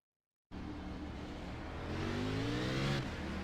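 A stock race car in a sim racing game at Rockingham Speedway has its engine roar up sharply from silence and build in pitch as the tires spin, then the note drops briefly before steadying, loud and close.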